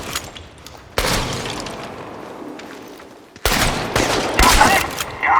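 Gunfire in the video game Chernobylite, with two loud bursts of rapid shots, one at about a second in and a longer one later, separated by a quieter stretch of ambient noise.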